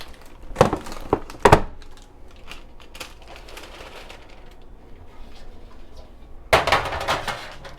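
A metal sheet pan lined with parchment paper being flipped in a kitchen: two sharp clanking knocks, then soft rustling and small taps, and a final loud clatter followed by paper crinkle, with no voices.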